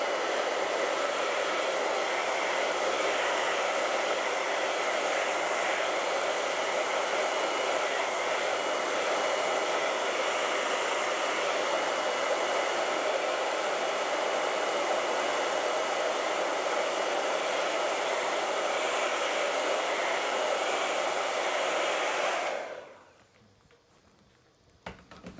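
Hair dryer running steadily at close range for over twenty seconds, a constant broadband whoosh drying wet acrylic paint on a painting, then switching off abruptly near the end, leaving near silence.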